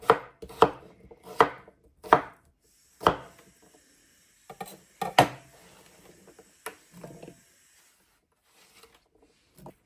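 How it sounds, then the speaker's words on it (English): Knife chopping half an English cucumber on a cutting board: a run of sharp, close chops in uneven bursts, with a few softer taps and pauses between. "So I'm using half of that English cucumber. Oh, I love the smell of cucumbers. Chop these up as well."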